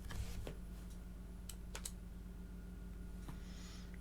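Quiet computer keyboard typing with a few scattered key clicks and a short burst of taps, faint over a steady background hum, no talk.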